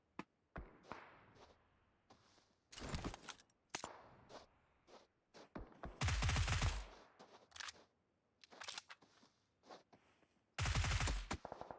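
Bursts of gunfire in the mobile battle royale game PUBG Mobile, with several loud sustained volleys and scattered single shots between quieter stretches.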